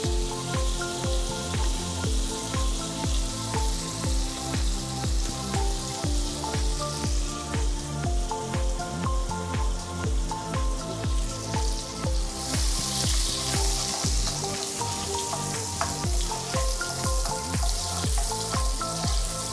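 Thirty grams of unsalted butter sizzles steadily in a hot pan for cereal prawns, a dense continuous crackle and spatter close up with rapid pops throughout and no talking.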